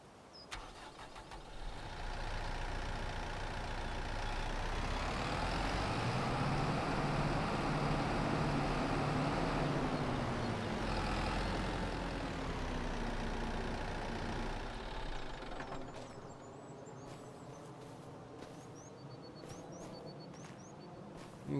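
A tractor engine in Farming Simulator 25 rumbles steadily for about fifteen seconds, rising and falling in pitch, then settles to a quieter idle with light clicks and ticks near the end.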